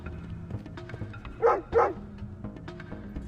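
A dog in the video game VirtuaVerse barks twice in quick succession, two loud close woofs standing out over quiet game ambience.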